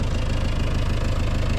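Kubota M8580 tractor engine running steadily nearby, a loud, even diesel rumble with a fast regular throb, no talking heard.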